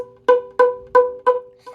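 A single bowed violin B note on the A string repeated five times in even, detached strokes, clear and close with short gaps between each.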